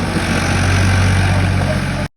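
A tractor hauling a loaded brick trolley runs loud and close with a steady, heavy low engine drone, struggling to reverse, then the sound cuts off abruptly.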